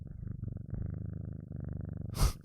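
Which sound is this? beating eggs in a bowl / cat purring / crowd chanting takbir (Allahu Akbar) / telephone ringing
cat purring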